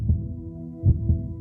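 A healthy human heartbeat thumps low and close, a few soft muffled beats in a slow lub-dub rhythm over a faint steady hum, with no talking.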